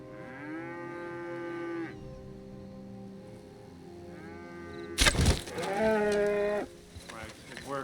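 A cow in the game Red Dead Redemption 2 gives long, drawn-out moos close by, one early and a louder one after a sudden burst of noise, with talking in the background.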